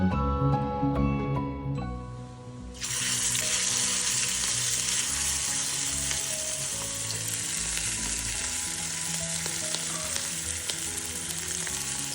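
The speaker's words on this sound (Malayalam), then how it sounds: "മഞ്ഞൾപ്പൊടിയും കുരുമുളക് പൊടിയും ഉപ്പും മാത്രം ഇട്ടിട്ട് ഒന്ന് പൊരിച്ചെടുക്കുന്നതാണ്" Eggs frying in hot oil seasoned with turmeric, pepper and salt give a loud, steady sizzle that surges after a couple of seconds and holds, crackling close by with no talking.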